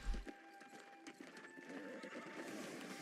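A horse in the video game New World whinnies and gallops with clip-clop hoofbeats, heard faintly and steadily over a few seconds against a busy game backdrop.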